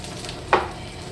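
Salmon crab cakes sizzle in olive oil in a frying pan, with a steady low frying hiss throughout and one brief louder burst of spatter midway as they are shifted around.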